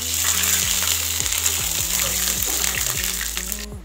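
Ghee added to melted sugar in a pan, a steady bright sizzle with bubbling, close and continuous, with a low electronic tone underneath.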